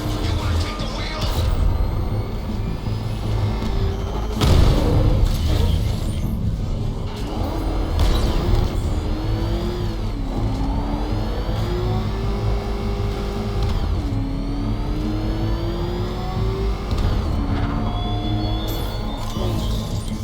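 A car driven through city streets in the video game Batman: Arkham Knight, engine revving and rising in pitch in several swells amid mechanical clatter and game sound.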